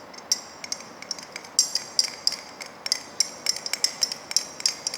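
A glass rod stirs glycerin inside a glass measuring cylinder in a lab, making a quick series of light, bright clinks and ticks in an uneven rhythm, close and clear with no voice.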